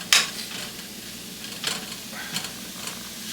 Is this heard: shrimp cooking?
yes